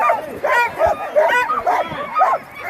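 A 12-dog sled team at a sprint race in Chugiak yips and barks in loud, overlapping bursts, close by and continuous, an excited chorus waiting to run.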